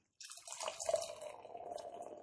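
Otter Schwartz beer, a 5.5% dark lager, pours steadily from close by into a glass, a continuous liquid splash and gurgle lasting about two seconds, with no talking over it.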